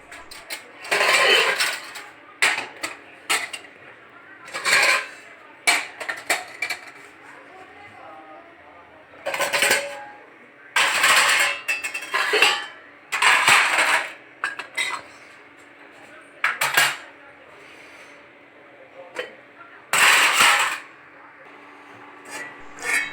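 Utensils, dishes and pots being washed in a home kitchen, with repeated bursts of scraping, rubbing and metallic clatter separated by short pauses, close and fairly loud over a faint steady hum.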